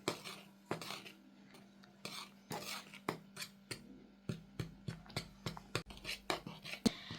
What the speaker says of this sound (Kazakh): Міне осылай ұнды араластырамыз.